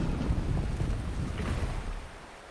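In the game Wuthering Waves, a waterfall rushes as a loud, dense, steady roar that fills the space and eases slightly near the end.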